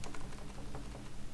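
Rapid, steady typing on a computer keyboard as a store address is entered: dense clicks close up, continuous for a moment with no voices.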